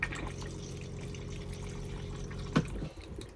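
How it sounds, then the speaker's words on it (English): A Thetford toilet pump in a motorhome runs steadily as it pumps fresh water around the bowl, with a constant low hum and watery trickle and a small knock near the end. "the pump will run and it'll start pumping a bit of fresh water around this bowl here as like a flush fluid"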